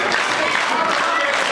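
Wrestling crowd at a live pro wrestling event roaring and applauding in a steady, loud wash of noise, pleading for a fallen wrestler to rise, with no break in the din.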